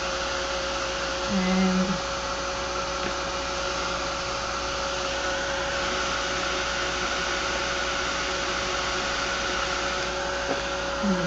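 A hair dryer blowing on a painted tile, a loud continuous steady whoosh and motor whine lasting throughout, with a single brief spoken word near the start.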